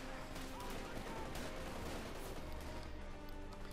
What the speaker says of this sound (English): MG-34 coming from here